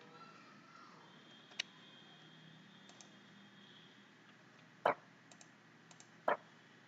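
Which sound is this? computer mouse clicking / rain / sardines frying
computer mouse clicking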